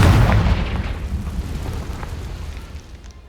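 A Confringo spell in Hogwarts Legacy explodes with a heavy, deep boom that rumbles and slowly fades over a few seconds.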